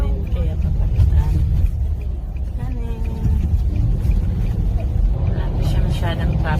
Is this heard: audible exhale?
no